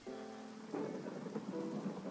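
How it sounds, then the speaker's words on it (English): Thunderstorm in a video game makes a soft, steady rain wash with low rumbling thunder beneath, over a faint musical hum, no speech. "Ooh, is that a thunderstorm?"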